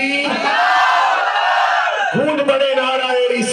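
A crowd at an Urs religious gathering with naat recitation loudly chants back in response to a slogan, following a single raised voice, with the massed voices swelling strongly near the end.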